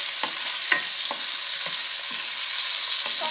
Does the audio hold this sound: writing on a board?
no